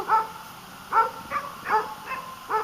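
Dogs that pull a homemade ATV mountain bike give short, whimpering yips and barks about once a second, close and moderately loud, with a steady hum underneath.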